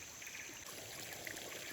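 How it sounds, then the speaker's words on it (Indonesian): A small river stream flows softly in a forest, making a faint, continuous trickle with occasional light splashes and no voices. "Ini aliran sungai kecil."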